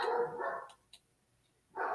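A dog barks a few quick, fairly close yips, a short pause, then another bark starts; no talking.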